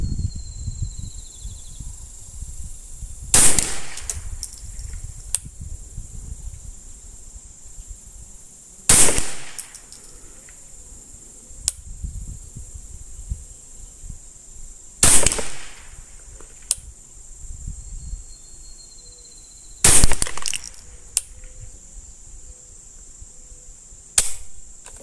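Four sharp, loud gunshots from a Ruger 10/22 rifle fired at a benchrest target, spaced several seconds apart, each with a short decaying tail over faint outdoor background hiss.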